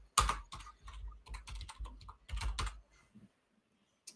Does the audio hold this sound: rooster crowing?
no